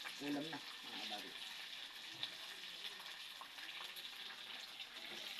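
Moringa (malunggay) leaves fry in a pan with a faint, steady hiss and crackle. A voice speaks briefly at the start over the sizzling.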